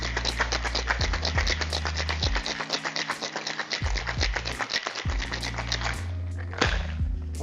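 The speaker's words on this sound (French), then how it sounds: "on shake vigoureusement." Ice rattling hard inside a metal cocktail tin during a vigorous shake, a dense run of rapid clatters for about six seconds over steady background music, easing off near the end.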